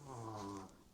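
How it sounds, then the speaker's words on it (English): Someone snoring nearby, one low, buzzing, quiet snore that fades out, followed by a brief sharp sound at the very end. "Can you hear him snoring?"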